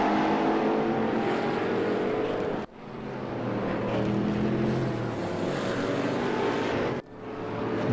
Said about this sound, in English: he's leaving the pits just right now. Yeah, there he is in the pink Piranha Ford Mustang